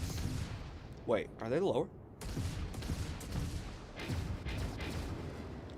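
Starship upper weapons fire in a space video game, a series of booming shots and rapid bursts, with a person talking over them.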